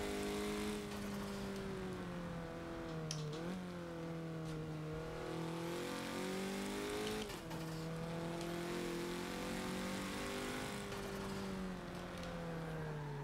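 Racing game car engine from Forza, a steady sustained drone that shifts pitch with gear changes and throttle lifts through corners, loud and continuous with occasional tire squeal and no talk.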